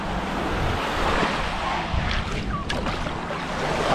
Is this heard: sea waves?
yes